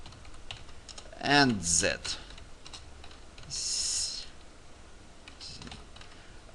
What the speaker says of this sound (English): Okay, I type it.